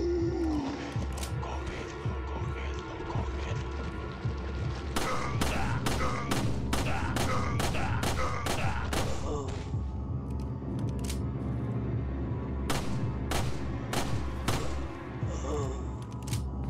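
Gunshots fired at an enemy in Resident Evil 4 on PS4, a rapid run of sharp loud shots in the middle followed by several more spaced shots, over steady game sound with occasional talk.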